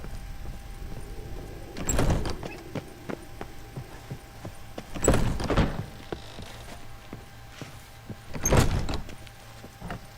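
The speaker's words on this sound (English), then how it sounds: "And go out the front door." A front door opening in The Witcher 3, with three loud, heavy creaking thuds spaced a few seconds apart over a low, steady game ambience; no talking.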